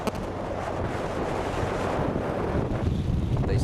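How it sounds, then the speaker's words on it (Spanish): Strong wind buffeting the microphone at a cycling road race stage in Catalonia, a steady loud roaring rush with no voices. "el viento que sopla con una cierta fuerza"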